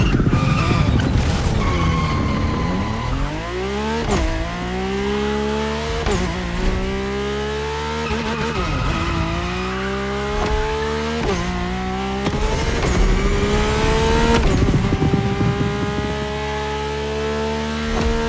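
A Mercedes-AMG One in The Crew Motorfest, its hybrid engine rising and falling through repeated gear-change sweeps, with tire skids and screeches throughout, loud and continuous with no talking.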